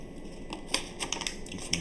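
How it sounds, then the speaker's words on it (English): Plastic packaging on a Swiss Tech EDC essential kit crinkles and tears in a run of short, crisp rustles and snaps, close and fairly quiet, with no talking. "let's get this plastic out of here first"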